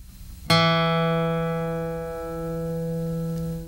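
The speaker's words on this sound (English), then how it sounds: "if you put your second finger on the second fret of the fourth string, you'll hear E." One guitar note, an E fretted on the fourth string, is picked and rings clearly, sustaining with a gradual decay.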